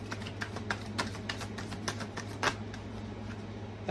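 Tarot cards being shuffled in a steady stream of crisp, papery riffles and slaps, close and moderately loud over a low steady hum, with no talking.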